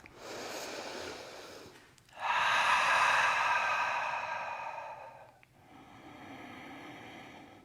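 Breathing during a yoga pose: a long soft inhale, then a deeper, louder, airy exhale lasting about three seconds, followed by a quieter breath, close and unaccompanied by speech.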